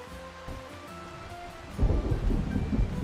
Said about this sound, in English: I hear the thunder, but I don't see any lightning or something